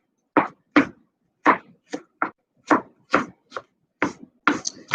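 A knife chopping fresh onion on a board, about ten crisp, separate cuts at an uneven pace, close and clear with silence between strikes.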